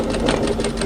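A sewing machine runs continuously while stitching the seam of a tee shirt, a rapid mechanical chatter heard close up with no talking.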